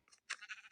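A lamb in Minecraft gives one brief, quiet bleat, a short wavering cry heard alone.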